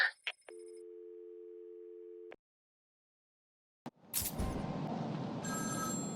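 A telephone rings in Batman: Arkham City: a steady electronic tone holds for a couple of seconds, then silence, a click, and a dense burst of game noise afterward.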